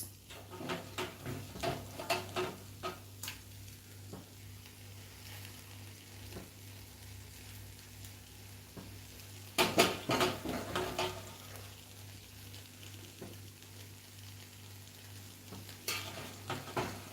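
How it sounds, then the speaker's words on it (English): Beef goes into a hot pot for biryani and sizzles steadily, while spoon scrapes and pan clatters break through now and then, close by and alone. "And then now we add in our meat."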